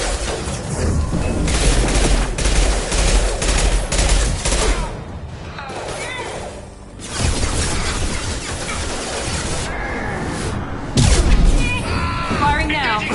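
Heavy weapons fire in Mass Effect 2: loud, sustained bursts of gunfire and booming blasts over about thirteen seconds, with a brief lull near the middle before firing resumes, and a voice talking beneath the battle.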